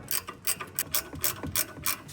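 A ratchet clicks in quick repeated bursts, about eight short rattling pulses, as a tie rod adjustment collar is turned one full turn during a home wheel alignment on the passenger side, which has reversed threads. The clicking is close and alone.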